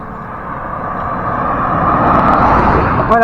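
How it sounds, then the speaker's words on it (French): Car approaching along an old Roman road now used as a paved route, a rising whoosh of tires and engine that grows louder as it nears and passes close by. "Moi je vais laisser passer les voitures."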